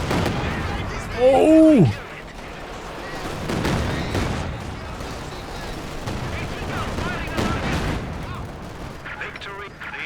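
Katyusha rocket artillery fires in the Company of Heroes 2 strategy game, with dense booming bursts and crackling impacts rolling on under loud game noise while a voice calls out over it.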